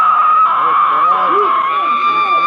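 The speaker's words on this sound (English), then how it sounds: "during which they will scream helplessly at the sky" A sustained, high-pitched, wailing scream from people shrieking helplessly at the sky, loud and continuous with wavering tone, with voices mixed in.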